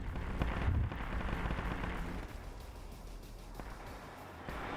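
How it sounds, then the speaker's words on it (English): A Hellstrike missile fired from a Valkyrie gunship bursts in a Warhammer 40,000 war game, a heavy rumbling blast opening loud then rolling into a sustained low roar of battle noise with scattered distant booms. "That was a Hellstrike missile from the Valkyrie."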